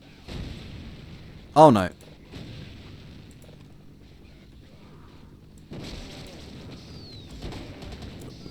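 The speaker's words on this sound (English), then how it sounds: "Let's get some dynamite out there" Dynamite blasts in the Brutal Half-Life v3 mod, a sharp loud burst standing out near the start amid low rumbling game noise, with a voice speaking briefly.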